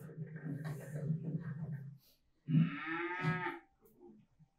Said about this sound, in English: This is a cow walking, minding its own business.